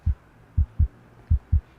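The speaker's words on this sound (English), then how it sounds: "the heart beat on with a muffled sound" A muffled heartbeat sound effect: five deep, soft low thumps in a loose lub-dub rhythm, two pairs and a single, close and dull with nothing else over them.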